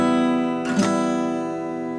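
One guitar chord rings with a brief buzzy, scratchy burst from strings not pressed down hard enough against the frets, then keeps sustaining quietly, with no voices.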